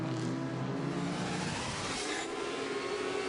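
A race car drives the tight Long Beach street circuit, a loud, close engine drone that holds steady and rises slightly as it revs, with no talking over it.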